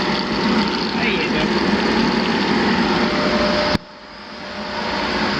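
A swimming pool pump and motor hums steadily beside a water filter at a North Dallas pool, a continuous broadband whir that cuts off abruptly partway through, leaving a quieter background that slowly swells again.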